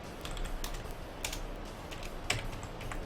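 Fingers tap out a quick run of keystrokes on a computer keyboard, close and crisp, in uneven bursts with a louder clack near the end, no voices.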